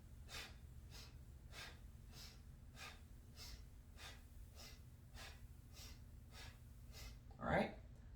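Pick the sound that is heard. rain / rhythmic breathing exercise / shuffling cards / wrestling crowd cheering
rhythmic breathing exercise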